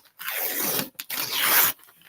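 A piece of paper is handled up close, giving two rasping, tearing scrapes with a short gap between them, clear and alone with no talk.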